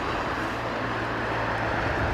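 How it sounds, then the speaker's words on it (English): A small aeroplane at London Heathrow Airport, heard as a steady, moderately loud engine roar with a low hum running underneath throughout. "Oh, look at the diddle aeroplane."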